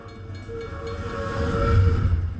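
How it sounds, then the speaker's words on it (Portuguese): A rotary snow plow train rolls along railway tracks with a steady, loud mechanical rumble and a sustained tonal whine that swells slightly toward the end, with no voices. "Essas unidades com trilhos são arados de neve rotativos, que são implantados para limpar os trilhos do trem quando a neve fica incrivelmente profunda"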